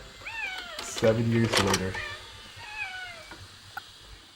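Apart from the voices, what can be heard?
cats meowing in a film scene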